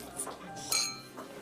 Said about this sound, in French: On a trinqué à ce nouveau départ.